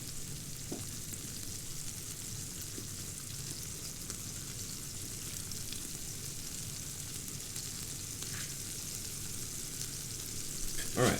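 Smash burgers fry on a hot griddle with a steady close sizzle and crackle that continues for the whole stretch, with a few small clicks near the end.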